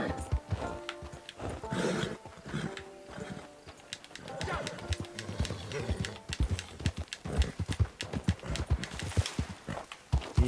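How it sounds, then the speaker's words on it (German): Horse in Red Dead Online, hooves clip-clopping at a steady walking pace with occasional snorts and a whinny, close and clear, while someone talks over it in German. "Richtiges Rennpferd. Wir füttern den Gaul."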